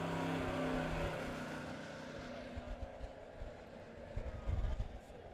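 USRA B-Modified race car engines rumbling at a speedway as the cars pull away from the track, a low engine drone with irregular revving bursts toward the end, heard under a voice speaking over a public address system.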